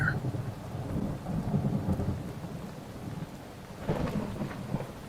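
Rolling thunder rumbles low and steady through a rainstorm, with a second swell of rumble near the end over the constant hiss of falling rain; no voices.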